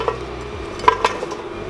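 Pieces of tapioca are set into a steamer, a few light clinks and soft taps of utensil against the pot close by, spaced out over quiet kitchen background.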